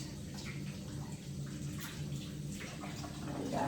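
Water running steadily from a tap while hands are rinsed of soap in a kitchen, a quiet continuous stream that swells slightly toward the end, with no talking.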